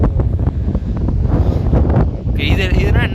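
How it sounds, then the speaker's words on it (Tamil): Strong wind buffets the microphone on an open hilltop, a loud, steady roaring rumble with gusty swells throughout and a faint high tone near the end. "அதனால தான் அப்படி அடிக்குது காத்து."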